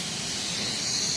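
Gas hisses steadily from a leaking airsoft pistol gas blowback magazine, a continuous close airy spray with no breaks.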